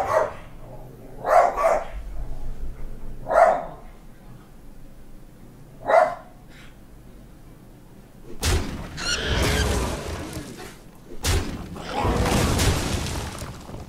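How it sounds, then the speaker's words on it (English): A dog barks in the background behind an online arena card game, giving four or five sharp single barks spaced a second or two apart, followed by louder crashing and rumbling effects from the game. "Dog's going crazy."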